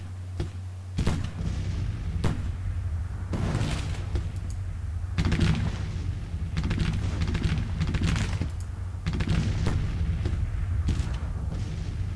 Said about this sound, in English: Bring these guys under artillery fire